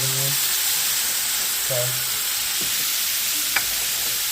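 Rice frying in a pan with soy sauce poured over, sizzling steadily up close while being stirred, with a couple of brief clicks and a short spoken word.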